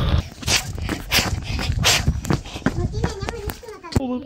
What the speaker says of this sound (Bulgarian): Ето кучето идва да ни спасява.